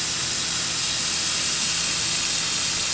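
An airbrush sprays paint in a smooth, even stream, a steady close hiss that holds without break or sputter and with no talking.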